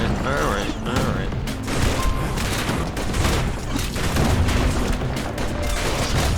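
Many turrets fire in the video game Bastion, a dense, continuous barrage of rapid shots and booms layered over game music and effects.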